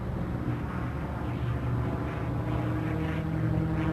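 A P-51 Mustang propeller fighter flies past with a loud, continuous engine drone. The throbbing hum stays steady throughout and is heard alone, with no voices.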